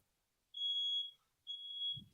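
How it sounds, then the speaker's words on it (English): Tiki's fire alarm sounds two long, steady high-pitched beeps with a short gap between them, moderately loud and heard on its own. "we are going to listen to Tiki's fire alarm continue to go off"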